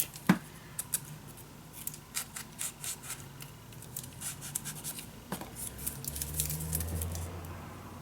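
Scissors snip paper while crafting an ocean-themed scrapbook mini album, a string of short, crisp cuts spread across the stretch with small rubs and taps between them, close and fairly quiet.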